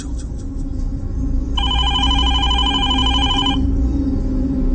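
An office desk telephone rings with a bright, rapid electronic trill lasting about two seconds, loud and close over a low room hum.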